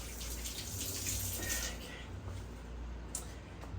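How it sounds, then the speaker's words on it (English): Hands being washed under a running kitchen tap, a steady rushing stream with splashing, close and fairly quiet, a faint clink near the end. "let me wash my hands because I don't want touching."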